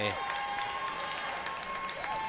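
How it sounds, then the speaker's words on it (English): Forest Lake home crowd at a boys varsity basketball section final, a dense wall of cheering, clapping and rhythmic crowd noise filling a gym, loud and continuous throughout. "You could tell that they've been waiting to do that chant all night."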